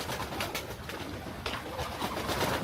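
Pigeons in an aviary giving low, throaty coos amid a busy rustling wash of flapping and movement, steady and moderately loud with no voices.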